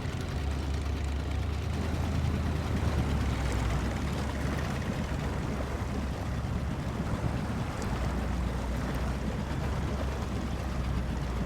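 A heavy truck grinds through deep mud in the Snowrunner game, with a steady low engine rumble and churning, washing noise that continues throughout without talk.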